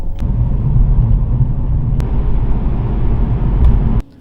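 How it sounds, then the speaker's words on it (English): A car engine idling through a cold-start warm-up, heard as a loud, steady low rumble with a few faint clicks from inside the cabin, running evenly for about four seconds before cutting off abruptly. "as we wait for my car to heat up and cold start to be done"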